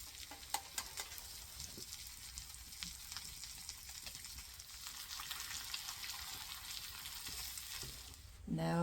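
An egg frying with potatoes in a pan over a campfire outdoors in a misty January meadow, a steady close sizzle running throughout with a few faint pops and a louder burst of crackling at the very end.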